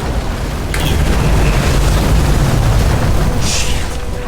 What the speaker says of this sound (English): Fuses just blew